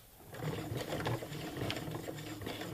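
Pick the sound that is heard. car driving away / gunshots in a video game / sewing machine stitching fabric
sewing machine stitching fabric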